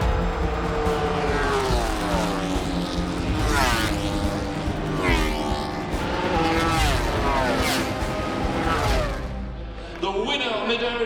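MotoGP racing motorcycles scream past a trackside spot during a race, high revving engines rising and falling in pitch as several bikes arrive and pass in quick succession, loud and continuous, with a voice talking over the noise.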